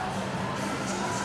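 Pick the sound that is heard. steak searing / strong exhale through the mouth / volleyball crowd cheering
volleyball crowd cheering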